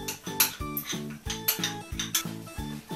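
Fruit puree being stirred with honey in a pot, the spoon knocking and scraping against the metal in a steady rhythm of repeated clanks and clinks, close and clear with no talking.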